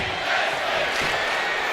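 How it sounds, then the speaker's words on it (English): A roaring arena crowd at a tag team wrestling match in Philadelphia in the WWE 2K25 video game cheers and shouts in a dense, steady wall of sound with no clear voices standing out. "this crowd here is loving every bit of match number 2 here in Philadelphia"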